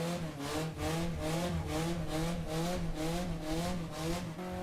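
A Honda S2000 with a K20 engine revving hard, high-pitched and rising, with a rhythmic pulsing wail as the revs climb and fall through repeated pulls.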